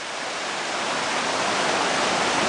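A swollen creek by a kids' fishing pond in Boulder, Colorado, rushes like a river, with a loud, steady, close-up roar of churning water and no pauses.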